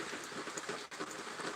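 Rain pours outdoors on a stormy day beside a dirt road, a steady, dense hiss of falling drops with a faint rumble underneath, continuous and fairly quiet.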